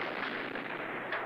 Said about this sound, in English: there was a huge explosion just beyond the main exit